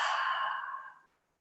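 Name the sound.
exhaling through the open mouth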